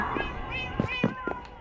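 Several cats meow in the game Minecraft, short mewing calls in quick succession, close and moderately loud, with a soft voice murmuring beneath them.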